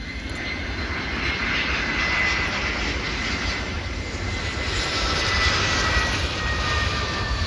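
Airplane landing at Davao international airport gives a continuous loud engine roar with a broad hiss and a faint whine, steady and fairly near for the whole stretch.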